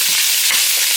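A spoon stirring sausage around in a pot, a loud close hissing sizzle with faint scraping movement, brief and continuous.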